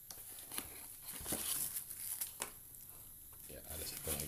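Close crinkling and crackling of bubble wrap plastic being unwrapped from a seed tin parcel, in irregular bursts under ongoing speech.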